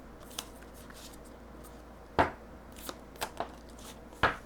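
Tarot cards are shuffled and drawn, producing a few sharp, close riffling snaps and lighter flicks spaced unevenly over quiet room tone.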